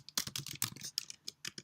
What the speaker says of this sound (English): he can continue typing things to Hermione